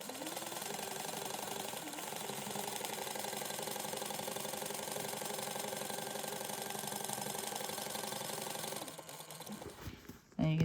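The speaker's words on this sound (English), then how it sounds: "We're going to sew a second one, and we're only doing this on the exterior" Sewing machine running steadily as it stitches a second line along the exterior of a convertible sling backpack, a continuous close mechanical whir with rattling needle rhythm, stopping near the end.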